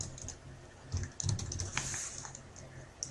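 A project name is typed on a computer keyboard in a short burst of close key clicks at an uneven rhythm, lasting a few seconds with no talk.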